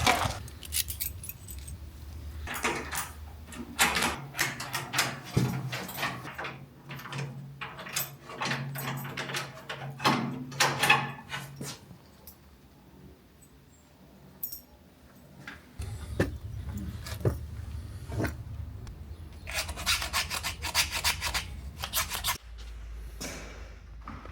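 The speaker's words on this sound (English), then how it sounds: "now we're going to change the lock for the front door and see if it fits" Keys jangle and metal hardware clicks, scrapes and rattles up close while a lock is swapped out on a front door during a property cleanup, the busy handling sounds coming in bursts with short pauses.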